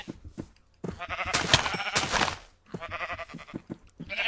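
Sheep in the Minecraft mod Project Ozone 2 bleat while attacking, with several loud, close, nasal bleats separated by brief pauses and dull thunking hits between them.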